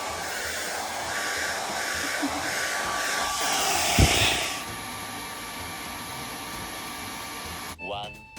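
A hair dryer blows steadily in a hotel room to dry wet clothes, a loud continuous whooshing hiss that runs for several seconds before cutting off, with a short voice at the end.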